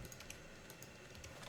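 Quick, light clicks of keys on a computer keyboard, a brisk run of typing taps at low volume over faint background noise.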